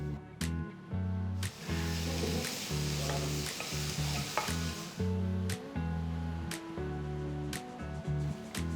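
Chopped onions, then finely chopped beans and other vegetables, fry and get stirred in a pan, giving a close sizzle with a pulsing low hum beneath and sharp intermittent clicks of the spoon.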